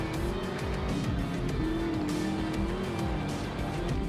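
A damaged car in GTA San Andreas drives off-road across grassy hills, its engine droning loudly and steadily with tire noise throughout.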